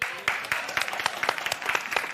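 Studio audience applause on a daytime talk show, a dense patter of many hands clapping at close range, steady and lively for a couple of seconds.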